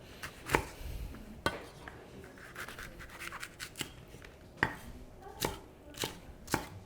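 A knife chops chili into chunky dice on a board for a Hong Kong-style black pepper beef and potato stir fry, giving a run of irregular sharp, close thuds with busier light tapping between the bigger strikes.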